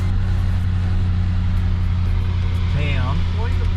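A car drives along the main street of a country town, its engine a steady close rumble throughout while a person talks over it.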